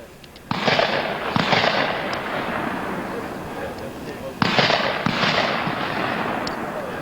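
Two loud gunshots ring out at a shooting show, about four seconds apart, each a sharp blast followed by a long, rolling echo that slowly fades.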